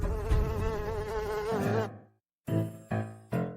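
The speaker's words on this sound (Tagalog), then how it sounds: "Guro, may langaw sa iyo." A fly buzzes close and steadily with a wavering whine for about two seconds, falls silent, then returns in three short clipped bursts.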